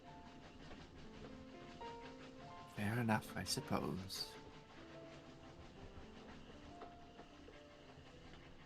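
A moving train rumbles with a steady rolling ambience, a louder clattering burst in the middle, while a voice speaks over it.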